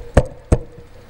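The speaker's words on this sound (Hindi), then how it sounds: "इतने में किसी ने दरवाजे पर दस्तक दी" Two sharp, hard knocks land on a wooden door about a third of a second apart, close and distinct, with quiet in between.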